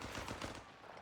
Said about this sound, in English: Machine gun's rolling up on him though.